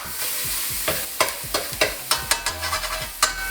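Mapo tofu ingredients stirred in hot oil in a wok, a steady sizzle under repeated sharp scraping strokes of a utensil, close and fairly loud, with no talking.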